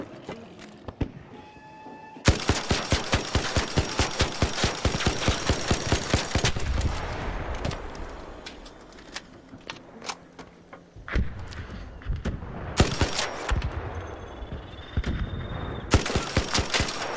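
Rapid bursts of automatic gunfire in a video game crack close and loud. Dense volleys run for several seconds, break into scattered single shots and thumps, then return as further sustained bursts.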